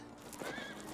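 Horse neighing from a film soundtrack, a rising whinny over a dense, continuous background of hooves and ambient noise, fairly loud throughout the short burst.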